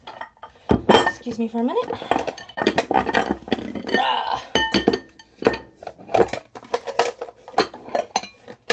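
Stacked kitchen bowls clinking and knocking as they are pulled apart and put away, a busy run of ceramic clatter with a person talking briefly over it.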